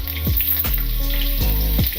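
Garlic crackles and sizzles in hot oil, a close, continuous frying hiss dotted with sharp pops and spits.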